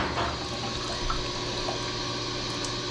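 Water gurgles and rushes steadily as air pushes it out of a hydronic gas boiler pipe loop on a LAARS boiler, a continuous close draining flow with no talking.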